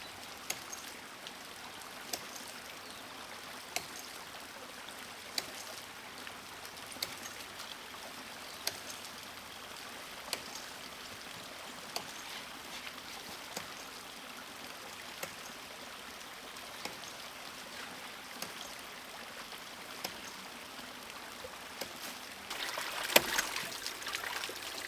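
Ram pump with a foam cover heard from about 40 feet away: faint regular knocking thumps every second or two over a steady watery hiss, with a louder splash near the end.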